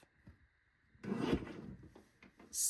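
Paper strips cut on a paper trimmer, with a brief rasping slide of the blade through the paper followed by a few soft clicks and a sharp hiss at the end, close and without talk.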